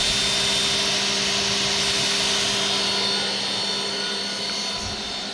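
A Shop Sabre CNC router spindle runs up to speed, giving a steady, close, high-pitched whine over an even mechanical hum with a few sustained tonal lines, easing slightly in level toward the end, with no voices.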